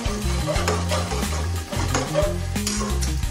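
Chicken curry stirred in a pan, close scraping and shuffling strokes over a low sizzle, with steady tonal music playing throughout.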